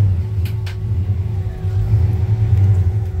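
A 350 V8 engine from a 1992 Chevy truck, fitted in a 1964-1966 Chevy C10 pickup with a three-speed column shift, idles with a steady low rumble, loud and close, alone throughout.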